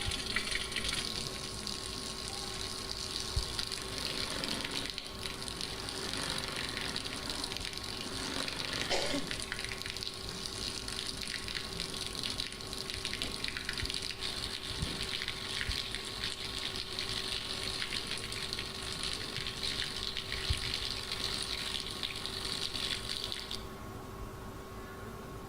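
Steady rushing flow of water, loud and continuous throughout, with a faint hum underneath; the flow is being altered by sound frequencies, and the hiss drops away near the end.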